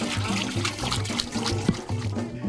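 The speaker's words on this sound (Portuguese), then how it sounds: "a água sai da garupa da bicicleta diretamente para o pote" Water pours steadily from a jug carried on the back of a bicycle into a clay storage pot at a rural home in Itapipoca, a continuous close splashing trickle with a gurgling, rhythmic flow.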